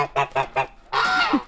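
A goose honks four times in a quick, regular series of loud, nasal calls close by, followed by a longer, harsher drawn-out honk.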